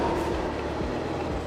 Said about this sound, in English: Here's the one train right here.